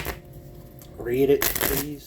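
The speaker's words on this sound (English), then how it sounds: "We're shuffling the card." Tarot cards are shuffled with a quick papery riffle and flutter, heard close, while a voice speaks briefly before it.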